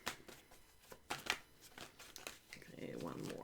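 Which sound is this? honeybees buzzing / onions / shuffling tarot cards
shuffling tarot cards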